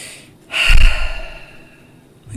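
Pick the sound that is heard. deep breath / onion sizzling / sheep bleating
deep breath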